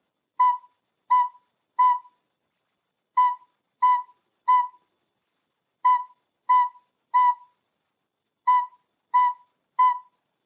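A recorder plays a single B note as evenly spaced quarter notes, clean and alone against silence. The notes come in four groups of three, with a rest between groups.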